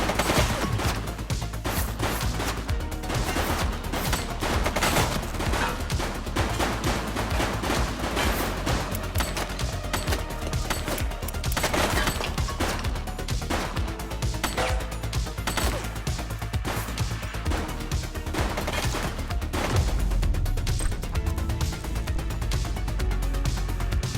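Sustained video game gunfire in The Precinct, a police action game, with dense overlapping shots and bursts rattling continuously at high volume for the whole stretch, close and loud with no pauses.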